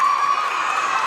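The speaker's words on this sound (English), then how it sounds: "And the teammates are cheering her on." Teammates cheer a high school girls' basketball player stepping up for free throws, a steady, loud gym crowd roar with shouts and whoops throughout.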